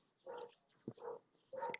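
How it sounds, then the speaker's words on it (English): A small dog yaps three times at a distance, faint short barks spread out over a couple of seconds with a soft click between them and nothing else around. "Wow, the dog is yappy tonight."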